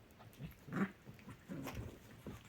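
Two dogs, Oreo and Suki, a Pomchi puppy among them, play on a couch, giving soft grunts, snuffles and a small growl amid rustling, close and quiet.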